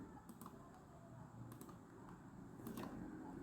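Computer keyboard keys clicked in a few quick, light taps during a paste shortcut, spaced strikes close by in a quiet room with no talking.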